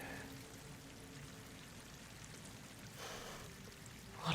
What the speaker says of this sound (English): Water's coming in.